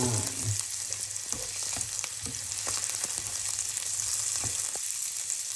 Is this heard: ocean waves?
no